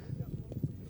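Polo horse hooves drum in quick, rhythmic galloping beats during a British Open polo match, heard faintly under a commentator's voice.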